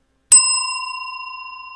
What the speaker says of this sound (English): Ring that bell.